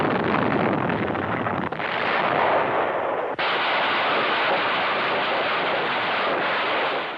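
Heavy gunfire and artillery from a Pacific battle with Marines facing a dug-in enemy, a dense continuous roar of blasts and rumbling noise with a couple of abrupt jumps in intensity, loud and unbroken.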